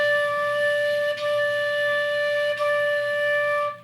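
A flute plays three tongued D notes in a single breath, each clearly articulated with a brief break, as one steady, clear pitch.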